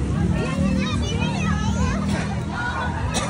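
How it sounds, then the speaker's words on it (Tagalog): Crowd of children playing and shouting at a busy playground at Rosmar Mansion in Calauan, Laguna, with a dense, continuous babble of kids' voices and general crowd noise throughout. "Ngayon naman naglalaro sila dito."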